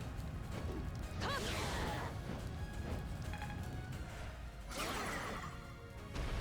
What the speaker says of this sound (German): So, die Rüstung ist zerbrochen.